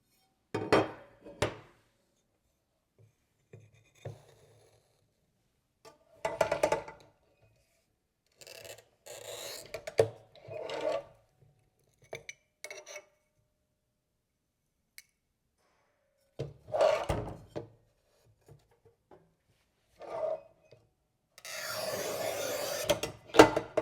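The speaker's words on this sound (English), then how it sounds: "The same rubber mat could be very useful to cut glass tile like this" Montolit Masterpiuma P5 tile cutter scoring and snapping glass tile on a rubber mat, heard as scattered short rasping scrapes and taps with a longer harsh hiss of scraping near the end, close by with quiet gaps between.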